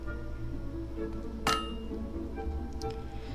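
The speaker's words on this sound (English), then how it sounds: "A perfect hammer blow." One bright metallic clink rings out from a blacksmith's hammer striking metal in Fable II, set over a steady low hum with a faint second ping afterward.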